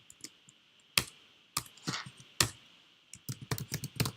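Someone types code on a computer keyboard, with close, crisp key clicks in irregular bursts and short pauses and no talking.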